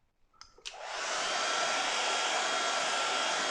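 A hair dryer dries a watercolour painting of boats, switching on after a couple of clicks and ramping up into a loud, steady, close-up blowing roar that continues alone.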